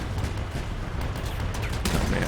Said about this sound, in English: the whole enemy team's over there just firing rockets and artillery